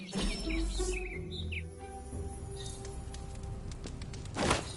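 Birds chirp and tweet in a video game ambience, scattered short calls over a steady low background hum, with one louder burst near the end.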